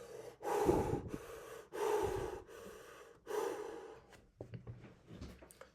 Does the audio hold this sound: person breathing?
yes